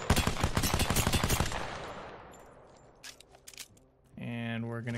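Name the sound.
gunfire from the Volt gun in the video game Apex Legends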